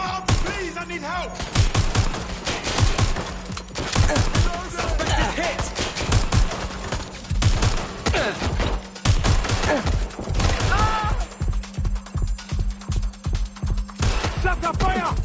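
Rapid bursts of gunfire from a target in Watch Dogs Legion, loud dense volleys and machine-gun rattles in fast irregular clusters, with shouting voices mixed in.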